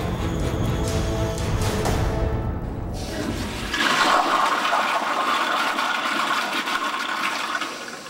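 Dual flush toilet flushing up close: a loud rushing surge of water drains away, then gives way to a hissing refill stream that continues steadily to the end.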